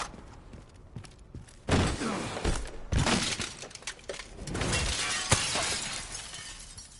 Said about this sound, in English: I thought the glass broke right underneath me.